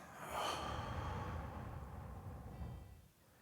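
A long, slow exhale in a guided meditation breathing exercise, a soft breathy rush that swells early and then tapers off, close and alone with no talking.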